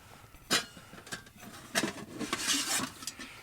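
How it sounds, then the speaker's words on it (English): Stainless steel Pathfinder camp cook kit pieces being handled outdoors at a solo ATV campsite, with a few sharp metallic clanks and rattles scattered over quiet surroundings. "I got the Pathfinder cook kit again, the stainless steel."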